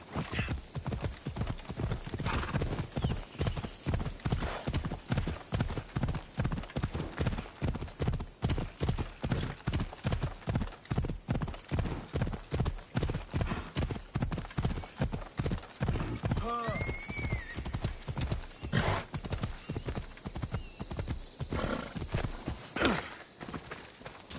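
Steady clip-clop of horse hooves at a riding gait in Assassin's Creed Odyssey, a loud continuous rhythmic beat through the whole stretch, with a brief whinny and snort partway through.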